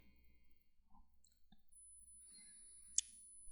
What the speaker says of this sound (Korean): 이렇게 구했고 저장 버튼 클릭